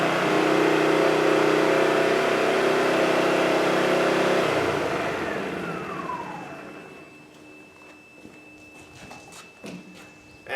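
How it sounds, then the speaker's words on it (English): A Wen 2500 portable generator roars loudly and steadily, then its engine winds down with a falling pitch and fades, leaving faint clicks and ticks in near quiet. "now the generator is running again"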